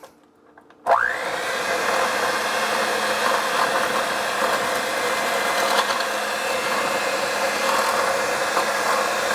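An electric mixer starts abruptly and runs steadily, whirring loudly while mixing chocolate cake batter, a constant motor drone with slight fluctuations as the beaters work the mix.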